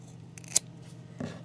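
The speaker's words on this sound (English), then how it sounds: "I'm going to grab my scissors" A pair of scissors snips through crochet yarn with a single quick, faint cut against a quiet room background.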